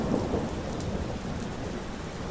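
Steady heavy rain pours down during a summer night storm, a dense continuous wash with low rumbling thunder beneath it, fairly close and loud throughout.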